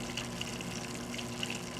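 A Cobalt needle wheel pump driving an aquarium protein skimmer, giving a steady low motor hum under continuous rushing and bubbling water, even and unbroken throughout.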